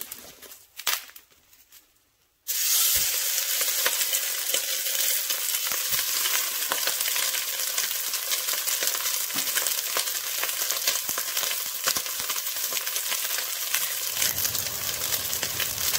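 Sausage browns in hot oil in a pan for homemade lasagna, giving a steady, loud, close sizzle and crackle that starts abruptly after a quiet moment and runs on without pause, with small scrapes and pops.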